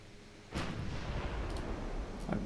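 Naval guns open fire at long range in a Greek campaign video game battle: a sudden heavy booming onset followed by a sustained rumbling roar, with a few sharper cracks near the end, no talking.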